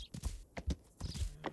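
A horse gallops across open desert in the game Rising World, its hooves landing in a quick, quiet rhythmic clip-clop of soft, evenly spaced thuds.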